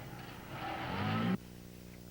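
A car engine revs up as the vehicle drives off, rising loud and close before cutting off sharply, then a low idle hum remains.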